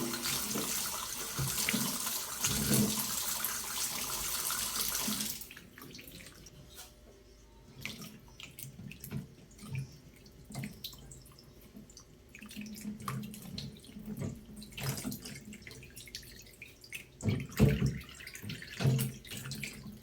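Tap water running over vegetables and green chilies in a strainer, a steady gush that cuts off after a few seconds, then intermittent splashing, clinking and rinsing sounds close by.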